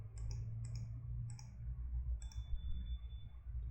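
Computer mouse clicks while opening a file menu to start a new project: four sharp, quiet clicks spaced about half a second to a second apart over a low steady hum.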